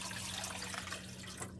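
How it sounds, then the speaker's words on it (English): Water running steadily from a tap into a cooking pot, a continuous close splashing flow filling the pot for rice, with a faint hum underneath. "we're going to put 3½ cups of water"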